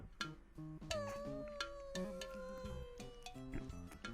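A drawn-out, wavering cat meow from the game Gaokao stretches for a couple of seconds over plucked background music, fairly close and clear.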